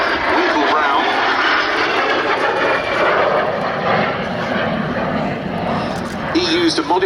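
A de Havilland Vampire jet flies at the Duxford Battle of Britain air show, its engine a loud, steady roar that holds throughout, with talk over it.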